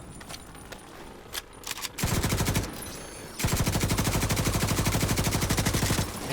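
Light machine gun fire in The Division 2 video game: a short burst, a brief pause, then a long rapid sustained stream of loud, evenly spaced shots close to the listener.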